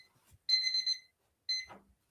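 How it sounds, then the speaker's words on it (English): A kitchen timer goes off during home cooking, sounding two short bursts of bright electronic beeping separated by a brief pause, fairly clear against an otherwise quiet background. "Timer."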